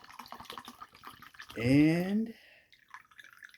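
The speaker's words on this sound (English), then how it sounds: "I'll go ahead and put my coconut water in" Coconut water pours in a short, gurgling stream lasting under a second, with its pitch rising as the container fills, between stretches of someone talking.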